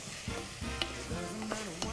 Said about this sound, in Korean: 이걸로 뭐가 됐던 저으면서 이렇게 바닥을 긁어가면서 볶아주시면 돼요